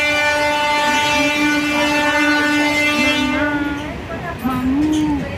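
A passenger train runs on its rails with a loud, continuous rumble under a long, sustained horn-like tone that wavers and fades, then briefly sounds again, close and dominant throughout.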